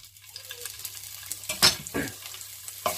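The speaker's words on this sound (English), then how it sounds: "we're going in now with our thinly sliced garlic" Thinly sliced garlic hits hot oil in a pan, giving a sharp burst of sizzling followed by a second surge and a later crackle, close and fairly loud over a quiet background.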